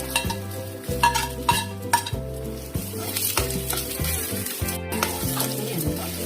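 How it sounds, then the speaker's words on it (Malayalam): Peanuts, cashews and raisins sizzling and crackling in a hot pan with a spoon stirring and scraping, while music plays underneath. "എല്ലാം കൂടെ നമുക്ക് നല്ലോണം ഒന്ന് മൂപ്പിച്ചെടുക്കാം"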